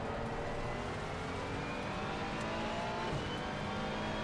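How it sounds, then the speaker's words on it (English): Several race cars in a McLaren Artura sim racing game at Paul Ricard draw near, a steady engine drone with pitch shifts as they close in, continuous and moderately loud. "There's a lot of cars coming up."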